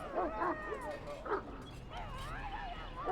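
A dog in Dragon Age: Origins gives several quick yips and whimpering barks, close and moderately loud, with a rising whine between them.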